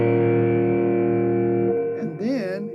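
An electric guitar chord barred at the fifth fret, played through effects, rings out sustained and distorted, then fades as a person starts talking over it.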